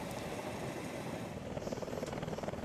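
A helicopter filming a bike race, giving a steady rotor and engine drone with a faint rhythmic chop that grows a little more pronounced toward the end.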